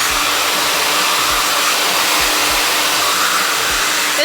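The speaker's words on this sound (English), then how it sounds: "we can start blow drying it side to side" Hair dryer blowing steadily on curly 3c hair, a loud continuous whoosh that runs unbroken throughout, close to the listener with no talking.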